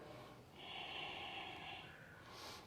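A single long, audible breath during a back-bend yoga pose, a steady airy exhale that swells and fades, followed by the start of another breath, close and without talk.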